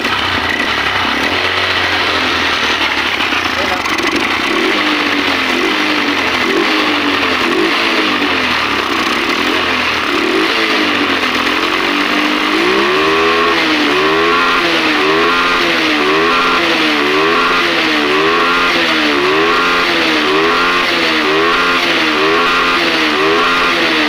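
A Honda CB125 motorcycle engine after a 4-pin CDI conversion, loud and close: a rough idle gives way to a steady run, then repeated rhythmic revving rising and falling throughout.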